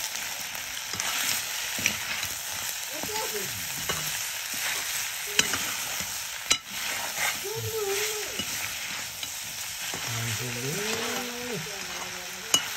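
Local black pork sizzles steadily in a pan while being stirred in a village kitchen, with scraping stirs and brief voices breaking in over the constant frying hiss.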